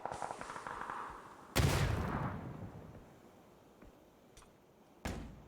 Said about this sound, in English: Nades coming over the top. You can hear the rattle of them coming down.